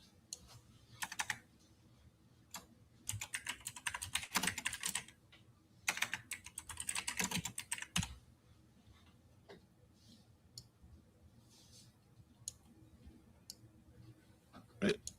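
Bursts of computer keyboard typing while text is entered into a Canva flyer design, fast clustered clicks separated by pauses and scattered single key taps, close and fairly loud.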